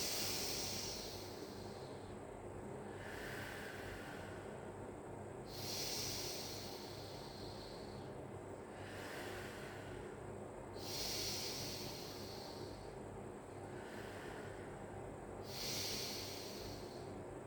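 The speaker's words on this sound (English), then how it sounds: "Take some nice big belly breaths." Deep, slow belly breaths during a pilates stretch, with four or five long airy inhales and exhales rising and falling in a steady rhythm, close and fairly quiet.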